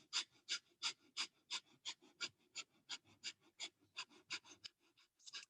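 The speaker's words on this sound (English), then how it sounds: "deep breath or breath of fire." Rapid breath of fire yoga breathing, quick sharp nasal exhales in a steady even rhythm, close and fairly quiet, with no talking.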